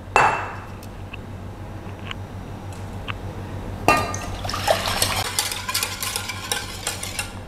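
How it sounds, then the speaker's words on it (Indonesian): UHT milk stirred into a pudding mixture in a glass bowl: quiet early clinks, then from midway a busier run of liquid swishing and spoon scraping against the glass, close and unaccompanied by talk. "Lalu kita masukkan susu UHT dengan diaduk ya."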